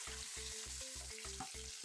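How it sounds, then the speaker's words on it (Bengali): Bhetki fish fries in hot oil, giving a steady, dense sizzle with pulsing low rumbles, close and continuous, with no voices. "এক পিঠ মাছ ভাজা হয়ে গেলে উল্টে দেবো অপর পিঠটা ভাজার জন্য।"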